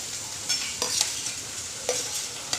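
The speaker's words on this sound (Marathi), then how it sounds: "कढईमध्ये तेल गरम करत ठेवलेलं आहे. आता त्याच्यामध्ये लसूण परतवलं जाईल." Garlic sautéing in hot oil in a wok (kadhai), a steady sizzle with a few sharp stirring scrapes and clinks, close and continuous with no voices.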